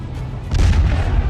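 A Russian missile strike on Ukraine sets off a loud, deep explosion that swells into a heavy rumbling boom, close and overpowering, with no voices.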